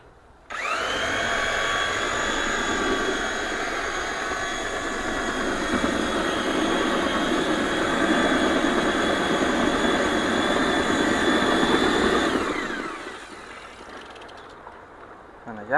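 A mixer churning foam concrete made of water, cement, gypsum and foam, giving a loud, steady mechanical whine and rumble that runs for about twelve seconds before winding down.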